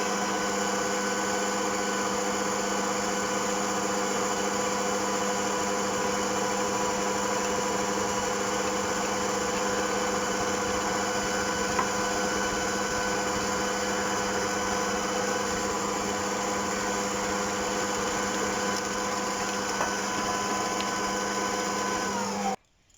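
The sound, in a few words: mixing cookie dough for maamoul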